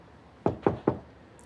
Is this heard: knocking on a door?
yes